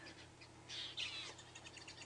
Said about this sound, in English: I can hear lots of birds alarm calling. Lots of white-crested helmet shrikes